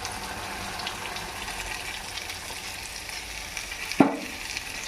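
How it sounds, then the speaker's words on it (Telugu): Milk that was boiled and cooled is poured into curry simmering on the stove: a steady bubbling sizzle runs throughout, with a brief sharp splash and clink near the end, and no voices. "ఇంకా మనం దీంట్లోకి పాలు పోసేసుకుందాం"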